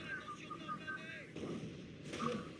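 Tank cannon fire in Company of Heroes, a 4v4 World War II strategy game: booming low-frequency blasts rumble through dense battle noise, with a sharper report near the end, while someone talks over the gunfire.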